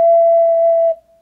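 A single sustained ocarina note E rings out, pure and steady, for about a second before it breaks off cleanly, loud and close with no other sound.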